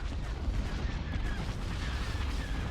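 Bombers open fire on an assault frigate in the space strategy game Empire at War, a dense, continuous roar of rumbling blasts and crackling weapon fire filling the whole moment with no pauses.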